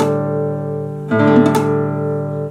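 A guitar barre chord fretted at the fifth fret with pressure only from the top of the finger, strummed once with a second attack about midway, the low strings ringing clear while higher strings sound muted and buzzy.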